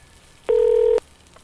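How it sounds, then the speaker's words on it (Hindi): A single steady electronic phone tone, a short beep lasting about half a second, sounds alone as a call is dialed. "फिर उसने तुरंत फोन उठाया और विकी को कॉल लगाया।"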